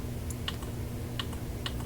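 Buttons clicking on a Pioneer DJM-T1 mixer, a handful of sharp, light taps spaced irregularly over a low steady hum, close and fairly quiet.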